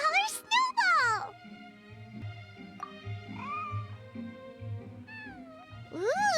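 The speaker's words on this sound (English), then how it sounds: "Here, kitty, kitty. That's it, Snowball. Good kitty" A white, fluffy cat meows in the video game Genshin Impact during the Feline Fortress Furrydyssey event, several rising cries up close at the start and end with game music running underneath.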